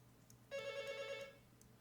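Telephone rings in a classroom during a lecture, giving one electronic ringing burst about three quarters of a second long, clear but moderately quiet over a low room hum.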